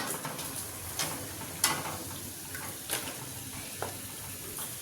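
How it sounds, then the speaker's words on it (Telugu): Pappu chekkalu, lentil crackers, frying in hot oil over a high flame: a steady close sizzle and crackle with occasional sharper pops and clinks, no talking. "వేగుతున్నాయండి, సెకండ్ టైం వేసాం కదా."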